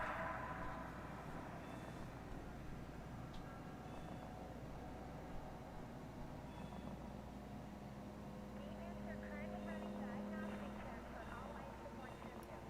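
Spaceship engines in Elite: Dangerous give a low, steady rumbling drone with a faint whine on top, constant and fairly quiet throughout, with a synthetic voice speaking over it.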